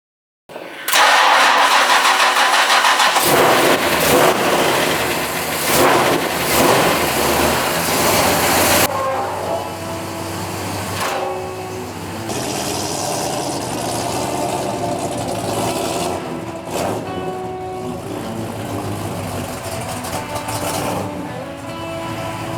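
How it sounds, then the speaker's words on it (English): A well-built race engine in a red truck cranks and catches loudly, then drops into a steady, rough idle that runs on for the rest of the clip, with no one talking. "This is a well-built race engine."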